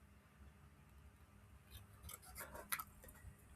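Scissors cutting out a small stamped paper piece at a craft table, a few soft, close snips and paper rustles that build toward a brief sharper clip near the end.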